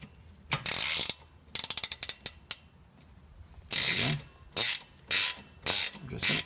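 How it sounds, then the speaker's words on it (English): Gear wrench ratcheting while tightening a bolt during a front brake pad and rotor change on a 1996 Honda CR-V: bursts of rapid clicking, a quick run of separate clicks, then several short regular ratchet strokes. "I grabbed a different wrench, a gear wrench"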